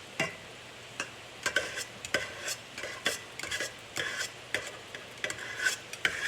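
Chicken fried rice with eggs is stirred and flipped in a pan, with repeated scraping strokes of a utensil against the metal over a steady low sizzle.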